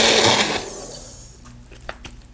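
A Magic Bullet blender whirs loudly while mixing in a mug, a dense burst of motor noise that cuts off after about half a second and leaves a quiet hum with a few small clicks.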